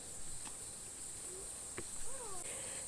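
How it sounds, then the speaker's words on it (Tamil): Crickets and other insects chirp along South Africa's scenic Panorama Route, a steady high-pitched drone running throughout with a few faint calls over it. "அந்த கிரிக்கெட் சவுண்ட்லாம், பூச்சி சவுண்டு"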